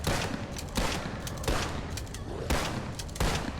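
Repeated pump-action shotgun blasts in a first-person shooter game, four loud booming shots spaced about a second apart over a dense, noisy game background.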